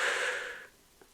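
One heavy exhale during a calisthenics workout, a breathy rush that fades out over about half a second, followed by a faint soft catch of breath, close and alone.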